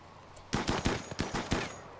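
Rapid bursts of gunfire from a Rimworld battle, about eight sharp shots in quick succession after a brief lull, loud and close with no talking.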